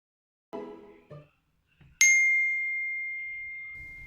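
A phone message notification chime sounds once, a bright ding with a long ringing tail. It comes after a few short muffled thuds and rustles, and no one speaks.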